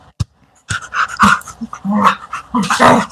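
A pocket beagle pants and whimpers close by in short, uneven bursts after a sharp initial yelp, with faint growl-like rumbles mixed in.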